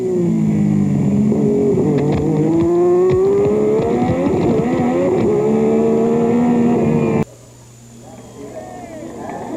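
A Formula 1 car driven by Johnny Dumfries at the 1986 Australian Grand Prix screams loudly under acceleration through its 6-speed gearbox, pitch rising through the gears, then drops abruptly to a quieter engine note; a commentator talks over it.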